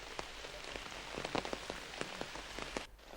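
Heavy rain pours through a jungle at night, a dense steady hiss broken by sharp, close splatters of drops hitting surfaces, with no voices.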